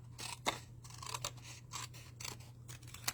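Scissors snip through paper to shape small grassy hills for a Christmas Scottie dog card, a run of crisp, close, separate cuts with short pauses between them and no talking.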